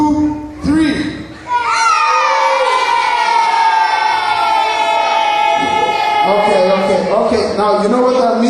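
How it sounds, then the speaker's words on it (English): A group of under-8 children screams and cheers loudly and continuously after receiving team awards, a dense, high-pitched crowd roar following a brief adult voice. "now give yourself a hell of a scream"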